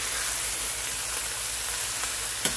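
Brussels sprouts sizzle steadily in olive oil in a pan, a constant soft frying hiss, with a single light scrape of a spoon stirring near the end.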